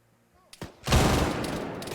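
Gunfire in the video game Arma 3, a sharp blast followed by a dense burst of heavy shots rolling out over about a second, loud and close.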